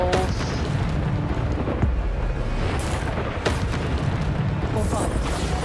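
Bombarda spell explosions in the video game Hogwarts Legacy, fought against trolls: repeated booming magical blasts and sharp pops amid continuous combat noise, with a voice speaking over the action.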